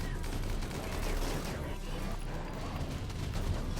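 Raiders open up with dense, continuous gunfire in a RimWorld Biotech battle against a mech raid, a steady crackling barrage of overlapping shots with no pauses.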